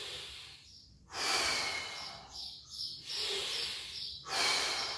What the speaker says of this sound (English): We're going to continue through that breathing for 7 more reps. So we inhale again and exhale.